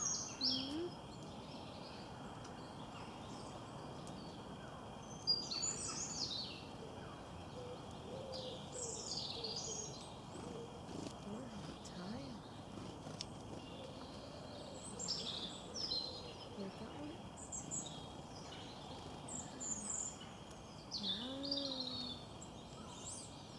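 Wild birds at a feeder set on a cut-down tree chirp and tweet in short, scattered bursts over a steady low background hum, with soft cooing calls mixed in, moderately near and fairly faint.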